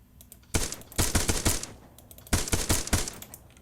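Machine-gun fire in ARMA 3 comes in two rapid bursts of sharp, loud shots, each volley a quick rattling string with a short pause between them.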